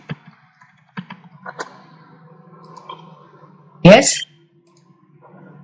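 Computer mouse double-clicks and scattered keyboard taps while renaming a level in architecture design software, faint clicks spread under a person talking, with a louder burst near the end.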